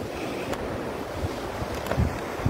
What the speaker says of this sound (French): Et je suis à la mer.